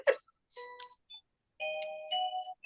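A clock's bell chiming in a home, a Christmas decoration clock, sounding a short series of clear ringing tones with gaps between them, loud and close with no talk over it.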